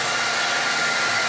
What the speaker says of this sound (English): I'm hoping that this blow dryer and this gift card helps me fix that.